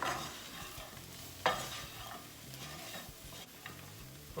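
Spinach mixture being stirred in a hot pan, with steady scraping strokes and a sharp clatter partway through, over a soft continuous sizzle; no one speaks.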